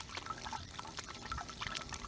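Water splashing and trickling from a solar-powered bird bath fountain, a soft continuous patter of droplets with light uneven spurts, close but fairly quiet.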